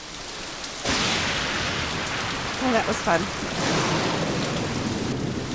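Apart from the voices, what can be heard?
rain and thunder in Nancy Drew video game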